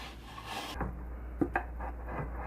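Hands rub and scrape grease across a metal baking pan, producing a continuous rough, rasping friction with a few sharper knocks of the pan, close and fairly loud with no voices.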